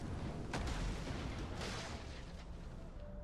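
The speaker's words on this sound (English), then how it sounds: "Okay, my artillery ships are firing." Artillery ships firing in the strategy game Total War: Attila, heard as dull distant booms over a dense, continuous battle rumble, with a couple of sharper reports early on.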